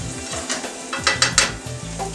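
Turkey sausage and sauteed vegetables frying in a pan, a steady sizzle broken by spatula scrapes and clinks against the metal, with a low background hum and no talking.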